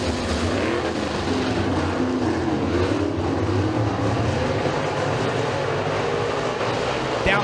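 Race cars roaring around the track at Stateline Speedway during a heat race, a loud continuous engine drone with a shifting pitch as the pack runs down the straightaway, a commentator's voice faint underneath.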